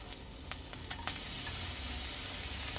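Crushed garlic hits hot olive oil in a pan heated on medium, a few soft clicks and taps giving way to a bright, steady sizzle that fills the rest of the moment.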